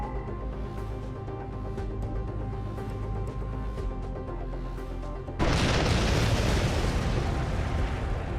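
Bomb explosions thunder in the Bannerlord Warhammer mod, a sudden dense roar that swells and holds as one continuous loud rumble after a stretch of steady, tonal background game sound.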